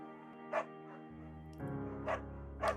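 Bucket, a scruffy, undersized beagle in the video game Firewatch, gives three short, sharp barks spread across a moment, each standing out clearly over a steady low musical hum.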